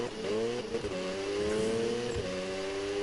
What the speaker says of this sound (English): Look, see the wheel spin?